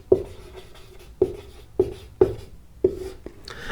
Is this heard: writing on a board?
yes